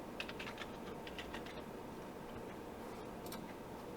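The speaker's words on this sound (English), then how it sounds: "I keep on clicking on the wrong one." Faint, quick clicks of a computer mouse, a few scattered taps in a quiet room with a short cluster near the end.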